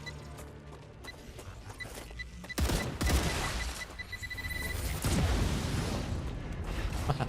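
A game explosive detonates in Star Rupture, a sharp broadband blast with a rumbling tail, then a second burst and continuing crackling debris, loud against a busy background of game noise.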